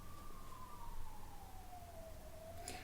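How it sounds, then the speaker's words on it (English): Distant ambulance siren wailing in a slow, falling sweep, faint but steady against a low background hum, with no voices. "Ambulance."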